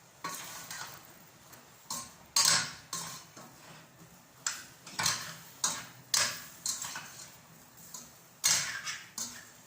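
A spoon scrapes and clacks around a cooking pot of vegetables in an irregular rhythm of close, crisp strokes, with a soft sizzle beneath.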